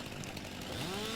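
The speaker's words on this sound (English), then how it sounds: "Chainsaw, please." Chainsaw in the video game Farming Simulator 2019, a steady close buzzing drone with a rising pitch toward the end, running alone without talk.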